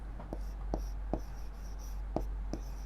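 Pen strokes write numbers on paper or a board, a series of short scratchy taps in an irregular rhythm over a steady low hum.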